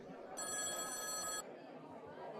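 A telephone bell rings in one sustained trill of about a second, then stops, heard over faint background chatter in a room.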